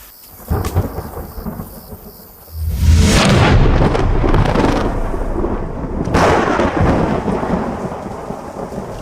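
A spring thunderstorm with rain hissing steadily and a faint rumble at first, then a loud, close thunder crash that rolls on, with a second burst cracking in a few seconds later.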